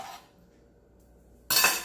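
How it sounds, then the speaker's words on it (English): A small Dutch pot is set down on a kitchen stove with a brief metallic clank near the start, then quiet before a louder scraping clatter of cookware near the end. "I'm gonna put on my little Dutch pot on the stove"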